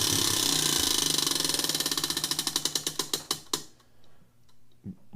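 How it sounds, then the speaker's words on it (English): A prize wheel spins down, its rapid clicking ticks slowing steadily into widely spaced clacks before it stops, followed by a soft low thump. "We're going to spin the wheel."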